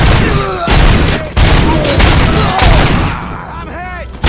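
Loud, dense gunfire from a film shootout, with rapid overlapping bursts and booms filling the scene and brief gaps between volleys, plus whizzing effects near the end.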